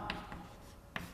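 Handwriting of the Hindi word सम्मान, heard as a few brief, faint scratchy strokes separated by pauses over a steady low background hum.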